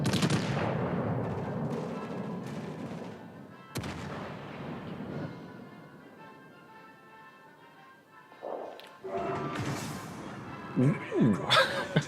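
Warship rear turret guns in World of Warships: Legends fire in heavy booming salvos, a big blast at the start and another sharp crack mid-clip, each trailing into rumbling decay, with a few quicker reports near the end.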